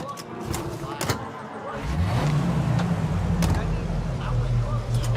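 A car engine in the Mafia remake video game settling into a steady low rumble as the vehicle pulls away, with scattered thumps beforehand and voices talking over it.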